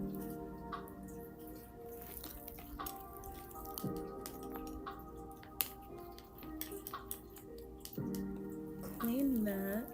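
A paintbrush swishes and taps in a water cup to rinse out black paint, soft irregular clinks and drips close by, with a voice heard briefly near the end.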